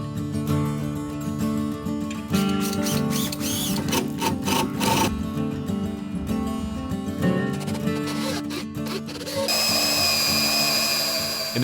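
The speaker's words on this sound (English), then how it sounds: "I also put 2 of these Timberlock screws in every single one of the floor joists" A power driver whines in repeated bursts as Timberlock screws are driven into cabin floor joists, the motor rising and stopping in uneven pulses, loud and close, followed by a steadier hiss at the end.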